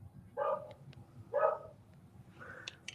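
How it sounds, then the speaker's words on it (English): A neighbour's dog barks in a few separate bursts from some distance, with the yaps spaced about a second apart and a faint yip at the end, over a quiet background. "Your dog is causing a ruckus in there"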